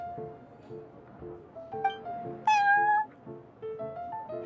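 A cat in a video game meows several times over looping game music, with one louder, drawn-out meow in the middle; no one talks.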